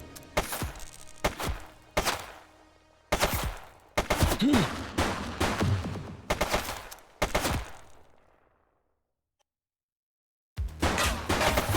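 Gunfire in The Precinct video game: clustered bursts of rapid shots crack out loud and close, break off into a brief silence, then resume in another sharp volley.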